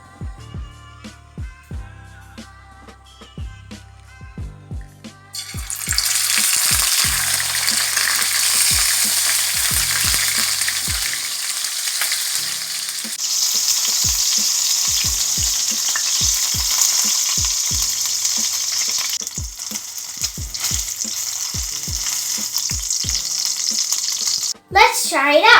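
Embutido frying in a pan, a loud steady sizzle that starts a few seconds in and fills the rest of the clip, with quieter kitchen clatter before it and an occasional knock or scrape.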